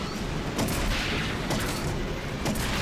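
Rapid Nerf blaster fire in the Nerf N-Strike Elite video game, a dense, loud, continuous wash of shots with a few sharper bursts standing out roughly every second.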